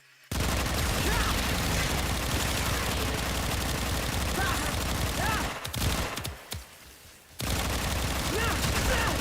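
Sustained automatic gunfire in the Warframe video game, a dense, loud, continuous barrage that stops briefly for a second before resuming at full intensity.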